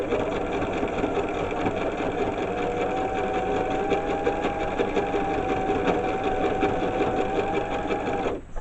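A sewing machine runs steadily without stopping, doing a basic straight stitch along marked lines to hold the pleats of a skirt. The motor hums evenly and close up for the whole stretch, then stops right at the end.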